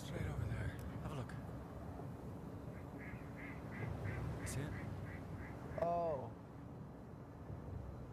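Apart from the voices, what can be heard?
Barrow's goldeneye duck quacking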